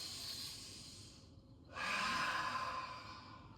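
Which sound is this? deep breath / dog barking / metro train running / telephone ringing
deep breath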